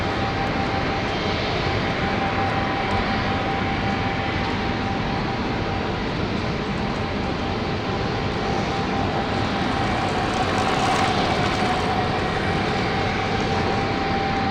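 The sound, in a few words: jet airliner at London City Airport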